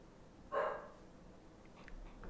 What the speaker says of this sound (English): Kova's upset. You upset my dog.